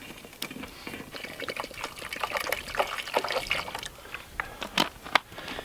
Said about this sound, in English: I'm going to put in a little bit of water just to give it a little bit of liquid in the pan